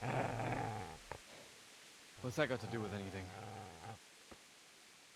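A low, rumbling dog growl in Kingdom Come: Deliverance opens at close range, then someone speaks over it and the snarl fades out.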